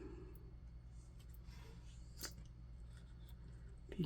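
Scissors cutting paper for a journal kit, a series of faint crisp snips and slicing strokes close by against a quiet background.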